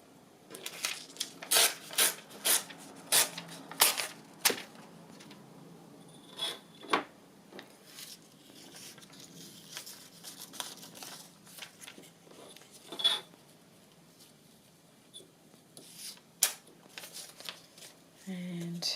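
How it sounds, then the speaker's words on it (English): A piece of paper is torn from a book page by hand for a journal, several sharp ripping and rustling bursts close by, then quieter handling and shuffling with pauses between. "tear a piece of book page."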